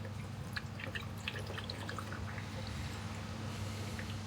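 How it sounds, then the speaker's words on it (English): Coolant draining from an Alfa Romeo Giulietta Cloverleaf after a speed flush, a busy trickle of scattered drips and splashes over a steady low engine-bay hum, continuous and moderately close, no talking. "Just draining the coolant out of it again"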